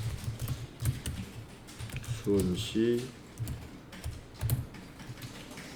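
Fingers tap rapidly on a computer keyboard in bursts of close, light clicks while someone speaks over them.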